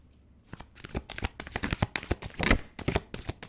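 Oracle cards are shuffled by hand at close range in an irregular run of soft riffling slaps and flutters that starts quietly, then grows busier and louder. No talking.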